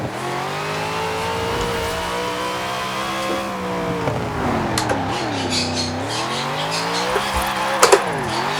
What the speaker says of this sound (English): Again, this thing just wants to drift because of how much power it has.